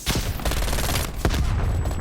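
Rapid automatic MAC-10 fire in the shooter game Call of Duty Black Ops Cold War on the Nuketown map, a dense continuous rattle of shots with a heavier boom partway through, loud and close.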